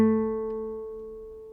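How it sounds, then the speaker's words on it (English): A single guitar note A, played on the 3rd string at the 2nd fret, rings out alone from the start and decays slowly with a steady, clear tone. "A is played on the 2nd fret."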